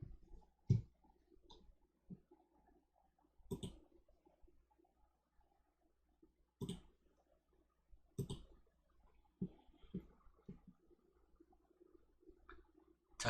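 Computer mouse clicks while working in a cost accounting software program, a sparse series of sharp, quiet single clicks spaced irregularly, with faint room noise between them and no talk.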